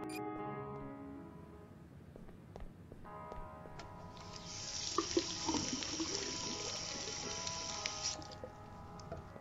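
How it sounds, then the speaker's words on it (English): Water runs from a sink tap in the Technobabylon adventure game, a steady hissing stream that starts midway and flows for a few seconds over a faint ambient backdrop, with light patter at its edges. "Can I fill it with water?"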